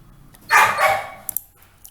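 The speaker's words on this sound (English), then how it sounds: "please bear with the dog's bark, sorry for that" A dog barking indoors nearby, one loud drawn-out bark followed by two sharp quick yips, then quiet.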